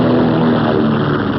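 A World War II propeller bomber roars with steady, loud engine drone as it lifts off near the end of a runway, the sound continuous and close with no voices.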